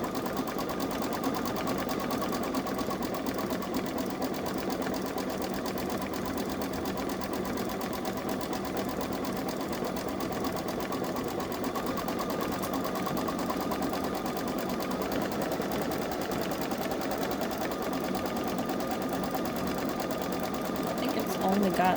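A Babylock Solaris 3 (Vision) embroidery machine stitching an Easter design, its steady rapid needle chatter running continuously and evenly throughout at close range.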